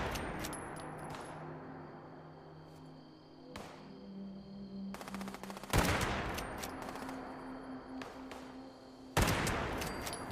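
Gunfire in the Fallout 76 video game: bursts of rapid shots with single cracks in between, loud against a quieter ambient background, with no voices.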